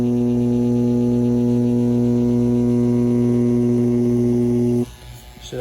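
A Dragonhawk Mast tattoo machine, pushing a 13-round shader at 7 volts, runs with a loud, steady electric hum for nearly five seconds before cutting off abruptly.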